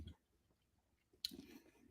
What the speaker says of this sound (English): I'm still chewing on my breakfast bar here